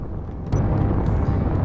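Hydrogen thrusters in Space Engineers burn with a steady, dense roar that swells louder about halfway through and holds there, with no voices over it.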